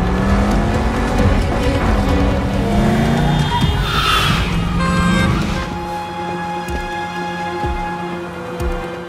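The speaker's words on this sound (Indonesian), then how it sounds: "Lino menggaspol mobilnya ke perbatasan" A car in an action film is driven flat out toward the border as police give chase, its engine roaring loud and close with rising revs, tyre squeal and a dense movie soundscape with no talk.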